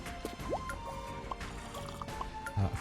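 Water drips and trickles in the Amber's Airlines video game, with scattered watery plinks and gurgles over a soft background.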